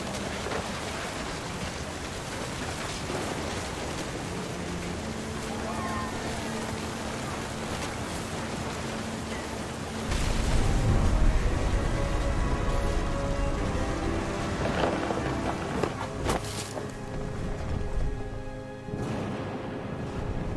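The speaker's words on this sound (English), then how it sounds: "The thunder sounded much too close and full of angry power." Rain and rolling thunder inside the video game What Remains of Edith Finch, a steady wash of rainfall that swells into a heavier, booming rumble midway before easing back down.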